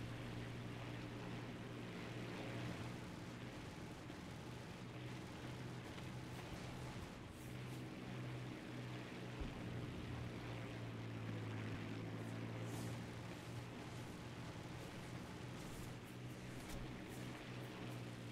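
Propeller bomber aircraft droning overhead in War Thunder ground forces combat, a steady low engine hum with a rumbling tonal band holding throughout, fairly distant and continuous, with no speech.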